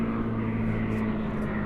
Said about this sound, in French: Alors là, il y a un avion qui passe.